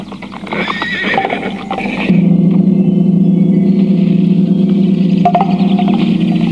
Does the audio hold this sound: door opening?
no